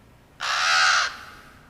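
Jake, a pet crow in a film, gives a single loud, harsh caw that lasts under a second, then fades into quiet background hiss.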